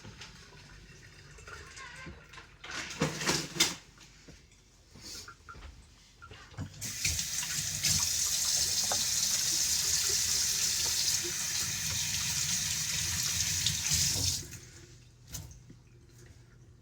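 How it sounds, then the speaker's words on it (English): A pot of water is poured out into a kitchen sink while cooking a chicken and shrimp Alfredo, a steady gushing splash lasting several seconds, preceded and followed by lighter clatters and drips of handling the pot. "we'll drain this, get the pot out of the way"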